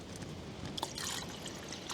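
Water poured from a camping stove pot over a dehydrated meal, a soft steady trickle and splash heard up close and quietly, with nobody talking.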